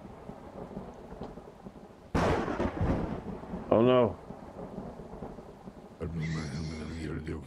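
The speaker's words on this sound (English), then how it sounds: "Oh, it's raining. Oh, it's a storm." A thunderstorm with rain in the farming video game Farmer's Life: a steady rain hiss underlies a loud rumbling thunder crash, followed later by a second swelling burst, with a brief voice speaking in between.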